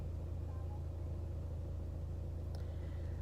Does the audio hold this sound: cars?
yes